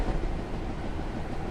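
Heavy rumble of a large Union Pacific train in Train Simulator 2016, a steady dense roar with no gaps, sounding close and continuous throughout.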